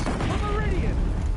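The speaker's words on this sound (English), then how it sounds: "It's Petra with the big ol' Oseram cannons" Heavy Oseram cannon fire in Horizon Zero Dawn, a dense volley of booming shots over constant broadband rumble, loud and close, with faint game voices underneath.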